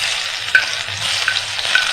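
Crushed garlic stir-frying in a hot pan gives a bright, steady sizzle with a few sharp clinks of the spatula against the metal, close up and with no voices.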